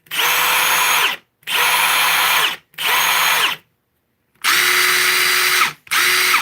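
Ridgid brushless impact driver on speed setting 3, very loud and close, firing in five rapid rattling bursts of roughly a second each, with short gaps and one longer pause between them.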